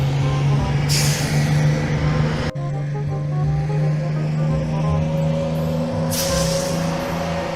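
A truck in Garry's Mod drives away with a steady engine drone, and two hissing air-brake bursts stand out over it, loud and close, with no voices.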